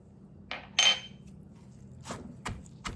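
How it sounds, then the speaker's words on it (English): Pounded catfish and tamarind paste ingredients in a mortar give a few sparse, sharp knocks at irregular intervals, quiet and close, with no talking. "we want to pound this until all the ingredients combine together very well"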